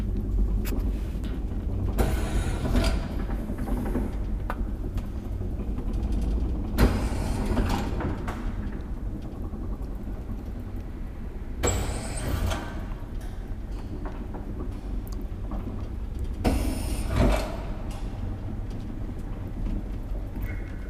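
Old Graham Brothers traction elevator built with Schindler running in a building at Topeliuksenkatu 23, a steady low mechanical rumble with periodic clunks and broadband bursts of door or cab movement every few seconds, fairly close.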